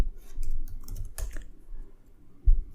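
Quick bursts of keystrokes on a computer keyboard, close and fairly quiet, with short pauses between runs and one heavier key thump near the end.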